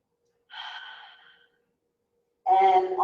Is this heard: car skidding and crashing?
no